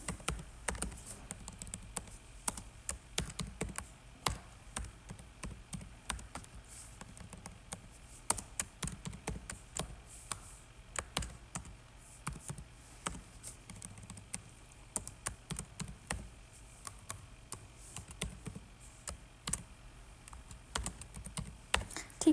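Rapid typing on a computer keyboard during a coding session, with a continuous stream of close, crisp key clicks in irregular bursts and occasional louder taps, with no voices.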